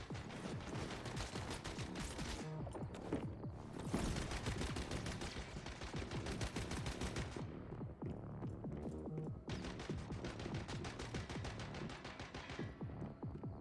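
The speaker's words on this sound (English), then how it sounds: "Are you shooting at me through the wall?" Gunfire in the survival shooter Once Human, shots passing through a wall: rapid clustered bursts of sharp cracks in uneven strings separated by short gaps, over a low mechanical hum.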